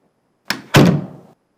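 A door swings shut with a short knock and then a solid thunk as a visitor leaves, close and clear in an otherwise quiet room.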